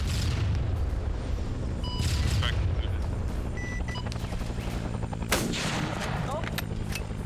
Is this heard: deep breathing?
no